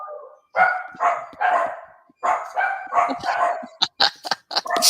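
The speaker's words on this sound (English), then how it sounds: "every once in a while the dogs start barking" Several dogs barking in rapid repeated bursts, close and loud, with yips and overlapping barks toward the end.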